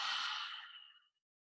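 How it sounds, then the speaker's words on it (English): One full, close exhale out the mouth during a vinyasa yoga flow, a breathy rush that starts at full strength and tapers smoothly to silence within about a second, heard alone. "And a full exhale out your mouth."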